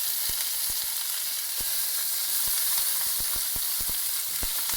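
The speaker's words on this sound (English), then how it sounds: "Artichokes in." Artichokes dropped into a pan of golden garlic and oil, a steady loud sizzle with scattered sharp pops and crackles throughout, close up with no talk.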